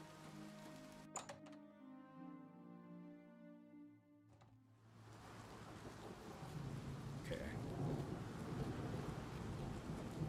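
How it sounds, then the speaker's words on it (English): Rain sets in within the Oblivion Remastered video game, a dense rumbling wash that swells and stays loud after a tonal passage. Someone speaks briefly near the start. "How is it raining inside?"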